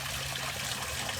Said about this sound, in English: you get to keep the waterfall